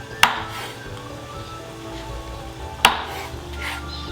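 A knife trims the wing tips off quails on a cutting board, two sharp, isolated chops a few seconds apart, close and crisp, with quiet kitchen background between.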